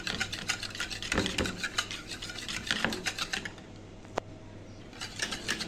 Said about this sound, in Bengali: আর টক দইটাকে আমি একটু হ্যান্ড উইচ দিয়ে ভালো করে বিট করে নিব